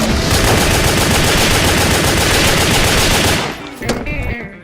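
Sustained, dense automatic machine gun fire from the video game WET, loud and continuous for over three seconds, then cutting off into a few scattered, fainter bursts and clatters.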